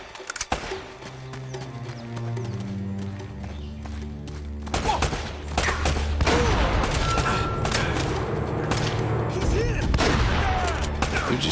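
Shotgun blasts in the video game Uncharted: Drake's Fortune land as several sharp, loud bursts over game music and action noise, arriving in a cluster after a quieter opening.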